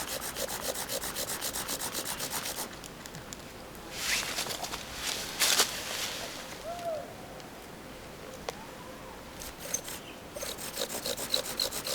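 Wooden spindle drilled hard against a wooden fireboard in a forest survival camp, a steady rasping, sawing friction in rapid back-and-forth strokes, close and loud, easing off briefly midway before resuming.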